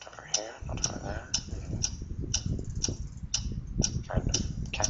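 Steady mysterious ticking, roughly two crisp ticks per second, repeats evenly throughout at moderate loudness over a low rumbling murmur of background noise.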